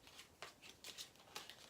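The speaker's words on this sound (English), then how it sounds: "I'm going to just shuffle those briefly" A deck of playing cards being shuffled briefly for the board game 1846: Race for the Midwest, quiet crisp riffling bursts in a quick uneven rhythm, close and faint with no talk.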